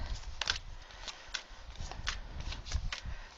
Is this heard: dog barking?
no